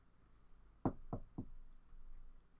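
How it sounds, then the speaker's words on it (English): Three sharp knocks on a wooden desk in a quiet room, the first loudest, spaced about a quarter second apart, with no talking. "That was me knocking on my desk."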